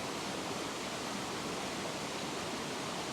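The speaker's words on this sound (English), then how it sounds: "I'm looking towards that beautiful creek here behind me." Flowing creek in Bright, Australia, giving a steady, even rush of water that fills the background at a moderate level, with no voices over it.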